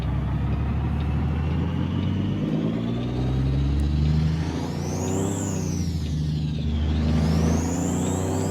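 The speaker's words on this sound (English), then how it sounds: "I'm not hating this engine sound at all" Kenworth W900L truck engine in American Truck Simulator heard with the windows down, a loud, steady low diesel drone and rumble with whirring tones that rise and fall as the revs change, no voices.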